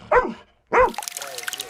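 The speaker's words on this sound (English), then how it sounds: "the team that trains this rescue dog, named Joy, to comb through the wreckage of Russian strikes looking for survivors" Rescue dog Joy, trained to search strike wreckage in Ukraine, gives two sharp close barks about half a second apart, the second followed by faint rustling and trickling noise.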